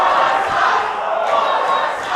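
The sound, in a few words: wrestling crowd taunting a wrestler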